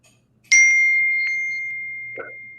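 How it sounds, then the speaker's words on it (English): A single bright computer message notification ding rings out clearly and decays slowly in a quiet room, followed by a faint second short chime. "Kane, your notifications are still on."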